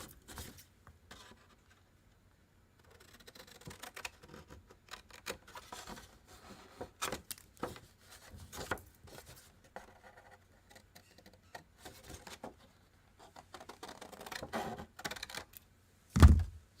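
Scissors cut paper for handmade envelopes, producing quiet, irregular snips and rustles in short bursts with gaps, ending in a louder thump.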